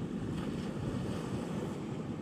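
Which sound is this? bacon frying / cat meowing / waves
waves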